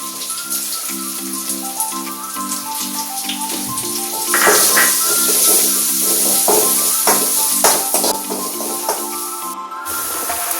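Crushed dried red chili fries with onion and garlic in a hot pan for a Kerala long-bean mezhukkupuratti, giving a steady loud sizzle with occasional stirring scrapes over soft background music.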